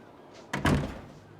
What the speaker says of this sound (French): Vous pouvez fermer la porte derrière vous